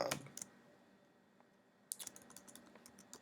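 Keys clatter on a computer keyboard in two short bursts separated by a pause of quiet, the taps faint and close.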